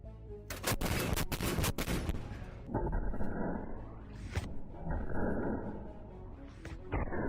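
A C-60 57mm cannon fires fragmentation shells at a tank: a loud burst of sharp reports opens, followed by rumbling echoes and a few further blasts carrying into the distance.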